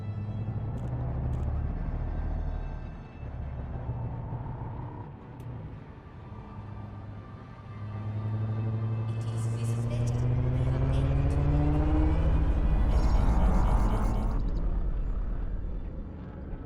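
Spaceship engines spooling up and launching in Elite Dangerous, a low steady rumble that swells with rising harmonic whine and builds louder toward the end, under a synthetic ship-computer voice.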